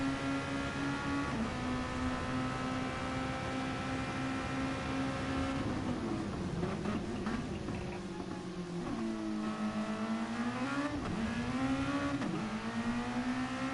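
A car engine during a driving session, humming steadily, then rising and falling in pitch through several gear changes and revs, heard from inside the car at a constant moderate level.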